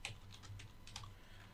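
Quick, soft keystrokes tap on a computer keyboard in an irregular run of about a dozen clicks, close and quiet with no talking.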